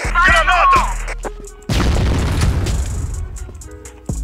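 A grenade goes off in a video game: after a brief shouted voice, a sudden loud, close boom bursts out and rumbles down over the next couple of seconds, ending with a sharp click.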